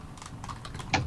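A computer keyboard clicks through a short run of quick keystrokes, soft and close, ending with one firmer tap, no voices.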